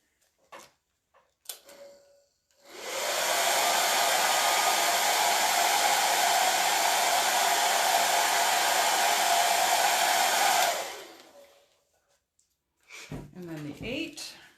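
Hair dryer drying a craft door tag, a loud, steady, close-up blowing roar that switches on, runs for about eight seconds and cuts off, with brief talk before and after.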